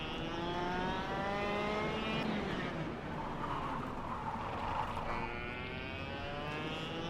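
A small go-kart engine revs steadily in the racing game KartKraft, a continuous buzzing drone with rising and falling pitch as the kart drifts through a corner, loud and close with no talk over it.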